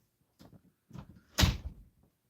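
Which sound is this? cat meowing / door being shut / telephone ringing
door being shut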